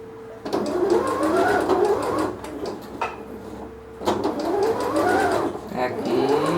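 Sewing machine stitching fabric for a nursing pillow, a fast whirring run that pauses briefly near the middle and then resumes, close and loud, with someone talking over it.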